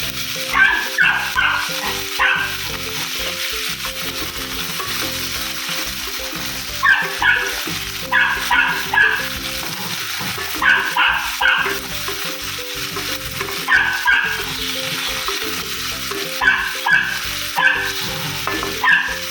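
Cut drumstick pods frying in hot oil with mustard seeds, a steady sizzle running throughout with periodic stirring and clattering bursts against the pan; no talking.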